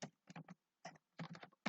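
Quick keystrokes on a computer keyboard entering data into SPSS, several close taps in small clusters, crisp and alone.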